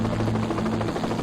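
An Anchorage Life Flight rescue helicopter hovers over an Alaskan wilderness slope, its steady rotor and engine drone continuous and loud, a throbbing low hum with no voices.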